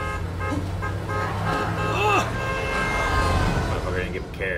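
A car horn toots over a steady hum of traffic and engine noise, with a short wavering tone standing out partway through and voices faintly underneath.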